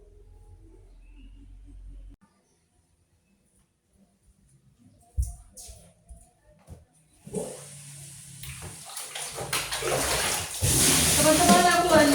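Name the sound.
washing dirty clothes by hand in water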